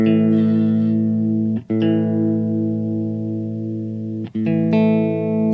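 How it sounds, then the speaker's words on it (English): An electric guitar's D string is plucked and left ringing while being tuned, played through BIAS Desktop amp software in Sonar with light reverb; three sustained, loud, clean notes are separated by brief gaps. "My D string was a little low."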